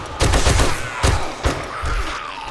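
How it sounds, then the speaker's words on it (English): Machine gun fire in the video game 7 Days To Die during a blood moon horde, with loud bursts of rapid shots in short clusters, then a few separate heavy single shots and quieter rumbling after. "All right, machine gun time."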